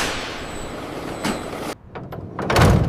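A delivery truck being loaded with boxed rainbow cereal rings gives a steady close hiss and rumble that cuts off abruptly, followed by a few sharp door-like clunks and a brief air burst, then a swelling low engine rumble, with no voices.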